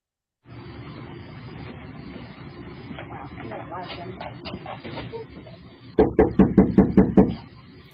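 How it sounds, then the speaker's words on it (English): A sheriff's deputy raps on a residential front door with a quick run of about seven firm knocks near the end, after a stretch of low, muffled background noise. "A deputy knocked on the front door and was joined by 2 others."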